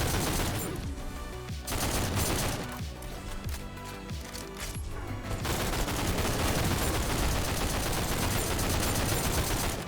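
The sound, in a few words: full-auto gunfire from a weapon in the video game GTTOD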